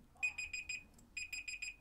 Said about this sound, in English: Right, that's my alarm. Did not know it was that loud.